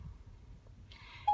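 A mobile phone gives a short electronic tone followed by a sustained single-pitch beep, clear and close over a quiet low rumble.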